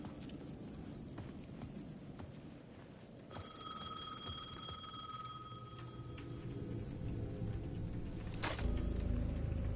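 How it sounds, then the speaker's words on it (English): A payphone at the edge of a plaza rings in the Alan Wake II video game, a steady electronic ring starting midway and continuing over a dense rumbling ambient background that grows louder toward the end. "The payphone at the edge of the plaza was ringing again."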